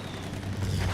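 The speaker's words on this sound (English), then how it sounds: "Bombs in there." A deep, heavy explosion from bombs in the Battlefield 1 game rumbles in low and swells at the end of a short burst of distant battle noise.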